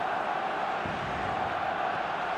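Stadium crowd in the eFootball video game roaring after a goal, a steady dense wall of cheering and noise held at an even loudness throughout, with no clear individual voices standing out.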